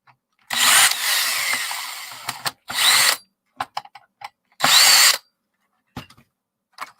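Power drill backing screws out from behind a loose scrap part, three loud whirring bursts separated by short pauses, followed by a few small clicks and knocks, close by with no talking.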